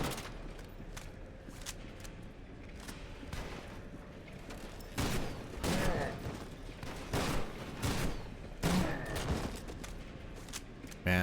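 Enemy gunfire in the shooter game FEAR 2, rapid bursts of shots and booms crackling in clusters, growing louder toward the middle and end, with a voice talking at times.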